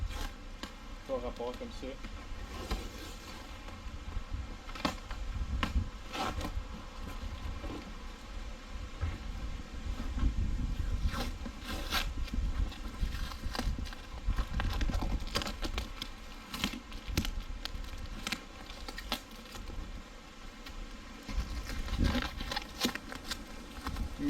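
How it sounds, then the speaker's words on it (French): Packing tape peeled in long raspy strips off a UPS box holding a trailer hitch, with several tearing bursts under steady conversational talk. "on va commencer par enlever un morceau de tape"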